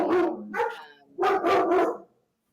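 A puppy barks and yips several times, loud and close, in two bursts separated by a short pause, with no talking over it.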